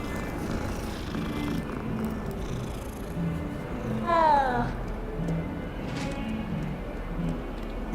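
Cat in Hogwarts Legacy giving a short rising meow midway, close and clear over a steady low game ambience, with a faint purr-like rumble underneath.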